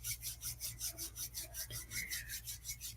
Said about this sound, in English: Rub the palms of the hands together.